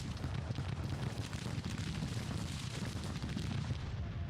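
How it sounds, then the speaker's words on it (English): Scattered musket volleys from defenders firing out of buildings in a Grand Tactician: The Civil War battle, a dense rolling crackle of distant shots layered over one another at even, fairly low loudness throughout, with no voices. "my defenders here in these buildings are shooting at the enemy"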